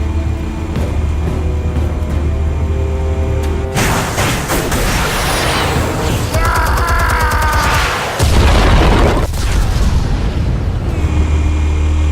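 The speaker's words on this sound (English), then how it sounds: "Explosives armed. Fire when ready." Explosives detonate in Batman: The Telltale Series, a loud boom breaking in around four seconds and another blast near eight seconds over a dense, continuous game soundtrack with rumbling low end.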